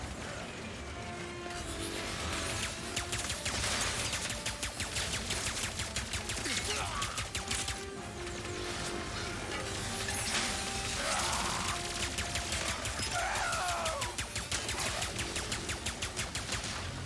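Burst pistol fire in the video game Ratchet & Clank: Rift Apart on PS5: rapid repeated cracking shots in short bursts over a dense, busy layer of game music and effects, continuing throughout.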